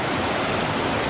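A stream rushes steadily over rocks at the Six Husbands trail water crossing, a close, continuous broadband wash of moving water with no voices.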